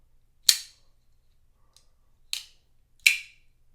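Kizer Towser K budget folding knife snapping open and shut, three crisp, sharp clicks spaced apart in near silence, close and loud, with a faint tick between the first two.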